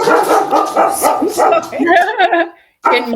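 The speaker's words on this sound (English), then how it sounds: "That is Loki, the dog of mischief, just so you know" Loki the dog barks and yips repeatedly at close range, mixed with overlapping human chatter in a home setting, with a brief pause before more noise.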